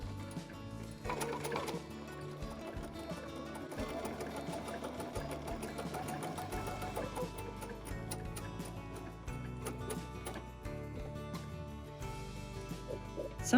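A sewing machine stitches a quilted doodle pad, running in a steady, fairly quiet whir with small shifts in speed and brief pauses as the fabric is turned for curves.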